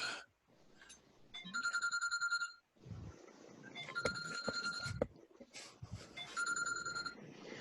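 A mobile phone ringtone plays in bursts of repeated electronic tones during an online meeting, with other faint room sounds between the rings.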